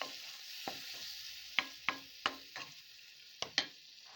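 Lentils and apples stirred in a pot, with a soft background sizzle and irregular spoon scrapes and taps against the pot, close but fairly quiet, and no voices.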